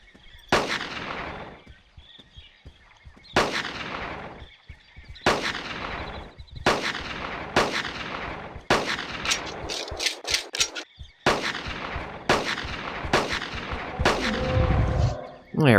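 Pistol shots fired in the Carnivores Genesis dinosaur-hunting game, about nine sharp loud reports spaced irregularly over the span, each followed by a short decaying tail, with mechanical reload clicks between some shots.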